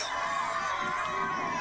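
A crowd at an open-air wrestling event on water roars and shouts steadily in the distance, a dense, sustained din of many voices with no single voice standing out.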